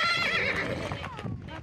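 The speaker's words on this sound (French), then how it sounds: "Comme déplacer d'un haras 4 chevaux affolés" A frightened horse being moved from a stud farm during a wildfire lets out a loud, close, quavering whinny that fades after about a second, with a few hoof clops and a little talk afterward.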